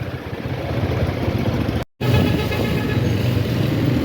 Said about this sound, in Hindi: यहाँ आ गया सिग्नल, और सिग्नल पे हो गया ट्रैफिक जैम